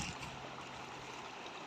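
The Shalvi river at Nerwa, running low on water, flows in a soft continuous rushing wash, faint and steady throughout.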